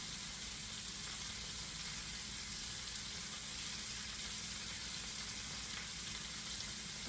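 Garlic frying in a pan for a brown veal fricassee, a steady close sizzle with soft crackle throughout, no talking.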